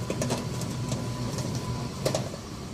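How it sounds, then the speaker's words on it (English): A Hitachi HB-B301 bread maker kneads dough, its paddle reversing direction every few seconds, giving a steady low mechanical whir broken by faint clicks and knocks as the motor switches. "the bread maker will switch between going clockwise and counterclockwise every few seconds"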